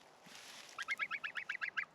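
A young Sebastopol goose, still a gosling, honks close by in a quick, even run of about nine nasal calls after a quiet start.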